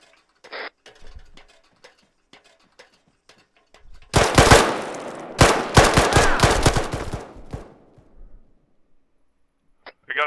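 Grenade blasts and gunfire thrown at a tower during a shooter game match: after a quiet stretch with faint ticks, a loud dense burst of explosions and rapid shots lasts about four seconds, then fades.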